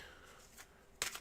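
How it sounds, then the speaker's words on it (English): A tarot deck being shuffled makes a soft, brief riffle, then a sharper, louder burst of card flutter near the end, close and quiet with no talking. "I'm about to shuffle this deck for them"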